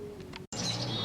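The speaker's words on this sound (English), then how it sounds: "Freaking birds are going nuts around here." Birds chirp and call close by outdoors near a workbench, with bright high twittering that cuts out briefly and then returns louder and busier, steady and unbroken.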